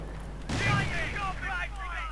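A 6-pounder anti-tank gun fires in a World War II strategy game, one loud booming shot with a rumbling tail over continuous background game noise.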